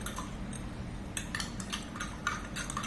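A spoon stirs in a glass of water to dissolve oil, giving light repeated clinks and scrapes against the glass, close and fairly quiet over a low background hum.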